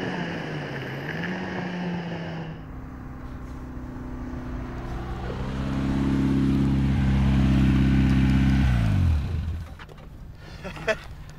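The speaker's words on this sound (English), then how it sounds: "I'm going to bring it in the pits now" A Caterham sports car's engine drones at track speed, swells louder and nearer as it drives into the pits, then drops away abruptly to idle and near-silence, with faint background noise at the end.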